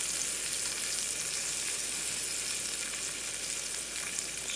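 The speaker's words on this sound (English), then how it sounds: "Kind of just letting them sit in the butter." Golden oyster mushrooms sizzle steadily in hot butter in a pan, a dense continuous crackle with no breaks and no voices.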